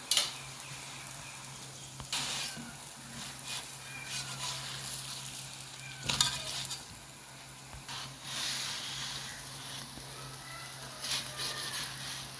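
Square paratha cooking in ghee on a flat pan, giving a soft, faint sizzle with scattered small crackles and a few sharper pops and bursts over a quiet, steady hiss.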